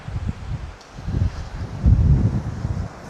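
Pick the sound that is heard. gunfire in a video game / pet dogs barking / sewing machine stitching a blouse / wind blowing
wind blowing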